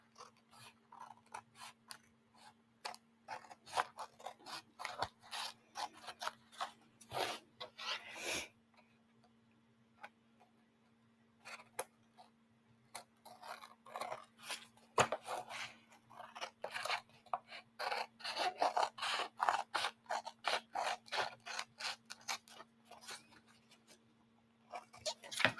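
Scissors trim paper for a vintage Easter junk journal kit: a close, steady run of crisp snips and paper crunches in irregular bursts, with no talking.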